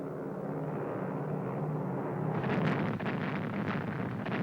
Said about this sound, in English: Allied planes blasted Rommel's tanks